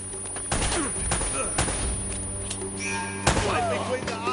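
Gunfire from the video game Uncharted: Drake's Fortune Remastered comes in several sharp, loud bursts amid game sound effects, with a voice calling out between the shots.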